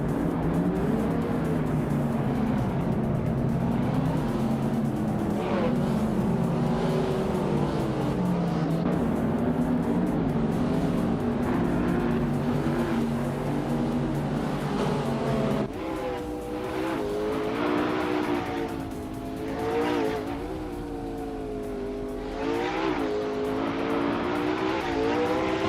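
Race cars in a video game roar past in a steady, loud stream of engine drone with revving, shifting pitches and occasional tire squeal, continuing throughout.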